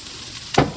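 Tilapia fillets hit a hot oiled Blackstone griddle, a sudden loud sizzle bursting in after a quiet moment and carrying on as a steady frying hiss.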